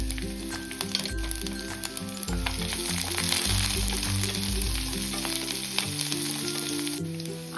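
Onion, green chillies and curry leaves sizzle and crackle steadily in hot oil for kadhi pakoda, with a dense, continuous frying hiss and occasional stirring throughout.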